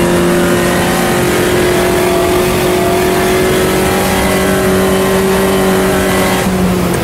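A Puma race car engine bogs down while climbing a hill in Automobilista 2, a steady loud droning engine tone holding at low revs throughout, with no talk.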